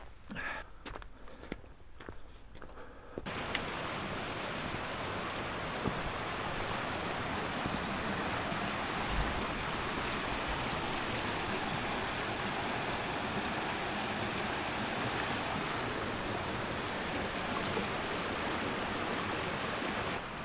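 The River Glenderamackin rushes beneath a small bridge in the Northern Fells as a loud, steady broadband roar of flowing water. A few footsteps come first, then the water noise takes over and stays constant.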